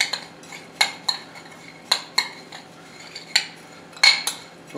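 A utensil mixes breadcrumbs with olive oil and herbs in a bowl. Irregular clinks and scrapes come close and fairly crisp, with quiet gaps between strokes.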